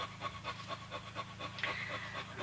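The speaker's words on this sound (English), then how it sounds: "Here is our blue pup" A blue puppy pants in quick, steady rhythmic breaths close by, with a brief higher squeak or whine near the end.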